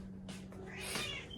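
A house cat meows and caterwauls at home in the morning, a couple of drawn-out, rising cries heard faintly at low volume, with no talking.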